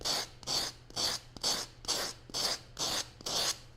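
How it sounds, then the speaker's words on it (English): Foam is sanded with sandpaper wrapped on a grip block in eight even back-and-forth strokes, each a close, loud, dry rasping rub with brief pauses between. "so it's a lot easier to sand the foam"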